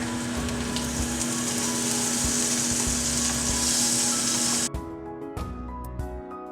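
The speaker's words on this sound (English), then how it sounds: "And she said when you flip it to add butter." Chicken sizzles loudly and steadily in a pan with butter for several seconds, then the frying abruptly drops away to quieter scattered clatter and faint crackle.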